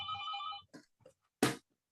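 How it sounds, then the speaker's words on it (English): A telephone rings with an unwelcome call, giving a short electronic ringtone burst followed by a few faint blips and one sharper tone, quiet and alone. "That's an unwelcome phone call."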